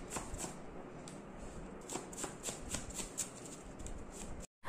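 Tarot cards are shuffled close up in a steady run of soft, crisp riffles and flutters at low volume, ending in a brief cut-off.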